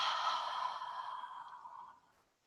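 A single forceful yoga breath-of-fire exhale, a long, close, breathy rush of air that fades out gradually over about two seconds.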